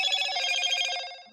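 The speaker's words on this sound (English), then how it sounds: "That's my phone just restarting up." Mobile phone chiming its start-up tone as it restarts, a bright ringing tone-like melody lasting about a second, then fading out.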